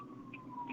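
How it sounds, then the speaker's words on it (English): Ambulance siren passing by in the distance, a faint steady wail with a thin rising tone barely above the room's background. "I guess there's a ambulance going by."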